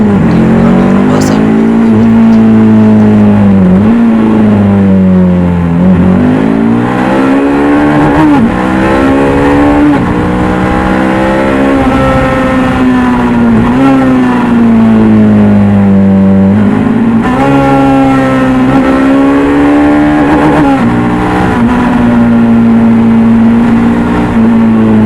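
A Bajaj Dominar 400 motorcycle engine is revved hard and continuously, its loud buzzing note climbing in repeated surges with brief dips between gear changes. Wind rush runs throughout and a voice is heard over it.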